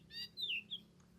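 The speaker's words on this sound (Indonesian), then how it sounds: "kita mendengar murai batu atau masteran" A white-rumped shama gives a few short, high whistled and chirping notes, faint and close, over a low steady hum.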